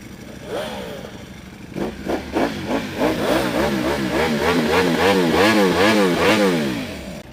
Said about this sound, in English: You know you love the sound of the dry clutch. Especially when it rattles like a serpent.